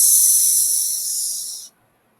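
A voice imitates a snake with a long, steady hissing S sound that holds loud and close for about a second and a half, then cuts off into silence.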